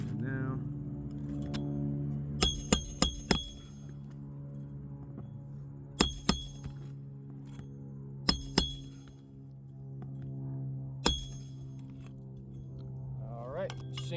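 Roofing nails hammered into an asphalt shingle during a repair, sharp metallic strikes in quick clusters of three or four separated by pauses, over a steady low hum, with someone talking intermittently.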